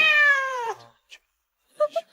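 A cat gives a loud, drawn-out meow, then falls quiet before a few short, sharp follow-up sounds, with no talking.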